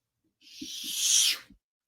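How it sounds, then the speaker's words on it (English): Ice skates carve across the ice at a hockey game in one sharp, hissing scrape that swells and cuts off, with a few light knocks of blades beneath it, close and alone. "That's the sound of ice skates skating on the ice at your favorite team's hockey game"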